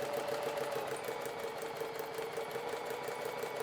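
A sewing machine runs steadily, stitching a straight line with an even, fast needle chatter and a continuous motor hum.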